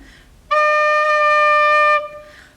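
A single steady recorder note D rings out clearly for about a second and a half, pure and whistle-like, with faint breath before and after.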